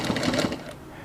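A sewing machine stitching a dart on a wrap dress, a brief close burst of fast rapid whirring that stops within about a second.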